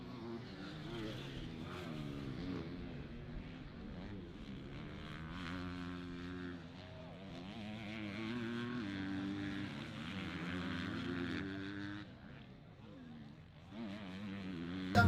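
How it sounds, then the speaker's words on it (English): A camera drone flying in to land at a pro motocross race, a continuous buzzing propeller whine that rises and falls in pitch as it approaches, with faint background noise beneath. "Our drone comes into land here"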